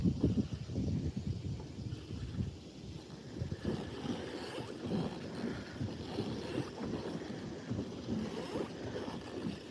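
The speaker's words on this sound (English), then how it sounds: "This wind's not going anywhere" Wind buffets the microphone steadily while out fishing on a boat, with low gusty rumble and faint water and boat noise underneath, fairly quiet throughout.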